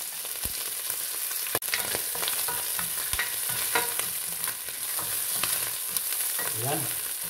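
Lamb fat from leftover lechon and garlic fry in oil, giving a continuous close sizzle and crackle with scattered pops and occasional scraping stirs.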